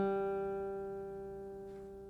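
A single acoustic guitar G string, plucked once and left ringing, fading slowly as a clear sustained tone.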